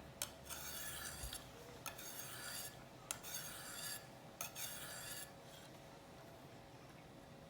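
A knife edge is drawn across a coarse stone on a KME sharpening system, giving repeated close, gritty rasping strokes, each sweep broken by a sharp click, in a steady back-and-forth rhythm.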